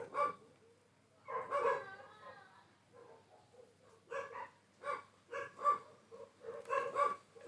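Dogs bark repeatedly in an irregular string of short, sharp yaps and woofs, some in quick doubles, faint and somewhat distant with quiet gaps between bursts.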